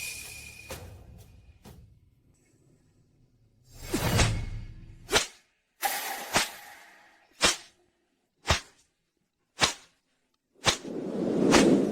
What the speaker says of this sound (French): Yun Jian, fais-lui personnellement son coup de fouet